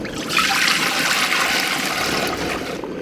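Liquid with sludge at the bottom being poured out in a steady, loud, continuous splashing stream lasting a few seconds, alone without talk.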